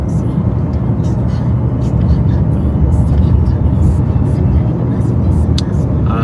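Steady road noise and engine hum from inside a car travelling toward Marang, a continuous low rumble at even loudness with a faint higher whine on top.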